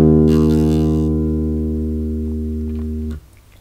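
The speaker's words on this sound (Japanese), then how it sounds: "D の音になります。" A single sustained bass guitar note, D played on the D string, rings out with a strong harmonic stack and decays slowly for about three seconds before being muted; no one talks over it.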